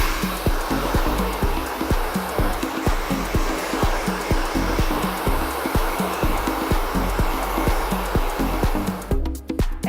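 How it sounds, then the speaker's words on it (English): A hair dryer runs loud and steady at close range while hair is power dried, with a faint rhythmic pulsing throughout and a brief dip near the end. "So then we'll start off with power drying the hair."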